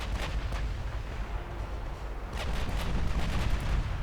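Battleship main guns, 16-inch, firing in the naval game Ultimate Admiral Dreadnoughts: a rolling barrage of deep booms, one burst early and a heavier cluster later, over a constant low rumble, with no voices.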